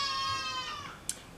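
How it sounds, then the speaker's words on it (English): A goat beyond a window gives a single wavering, falling bleat at moderate distance, followed by a brief sharp click, with no voices present. "You guys can probably hear my goats out the window."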